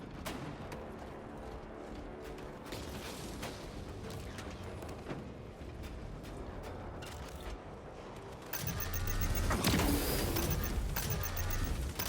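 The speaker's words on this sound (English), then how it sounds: "Reloading weapon!" Mechanical clicks and ratcheting of a weapon being reloaded in a Warhammer 40K game, sitting inside a busy battle mix that swells louder near the end.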